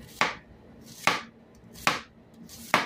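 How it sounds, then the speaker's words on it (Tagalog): Onions chopped with a knife on a cutting board in a home kitchen, four sharp, evenly spaced chops about a second apart, close and clear with no talking. "magtatad tayo ng sibuyas na sandamakmak"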